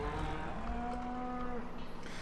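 Cattle in Farming Simulator 2013 give a long, loud, drawn-out moo that holds for over a second, over a constant low background drone, with no voices.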